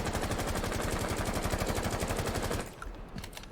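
Rapid sustained automatic gunfire from a weapon in the tactical shooter Rainbow Six Siege, a steady stream of shots at the 10-meter range that stops abruptly near the end, leaving faint scattered clinks.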